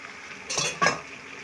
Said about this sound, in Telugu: ఇటువంటి స్టేజ్లో ఇంకా చికెన్ మొత్తాన్ని వేసేద్దాం.